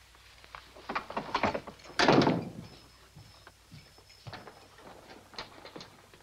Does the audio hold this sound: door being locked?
yes